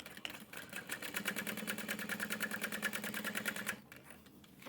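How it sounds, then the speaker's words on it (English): A sewing machine back stitches a handbag pocket, giving a rapid, rhythmic mechanical chatter of stitches that runs for a few seconds and then stops, close and unaccompanied by talk. "I'm going to pivot over and back stitch a couple of times."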